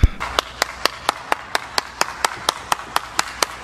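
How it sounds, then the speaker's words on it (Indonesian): An audience at a religious gathering claps in unison, sharp and crisp, about four claps per second in a strict steady beat, each hit clearly separated and at the same loudness. "Kita beri tepuk tangan dulu yang meriah."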